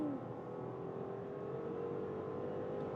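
An Audi A6 Avant with a 3.0 V6 pulls hard from 60 to 120 on a German motorway, its engine note a steady, sustained drone rising slowly in pitch under road and wind noise, heard from inside the cabin.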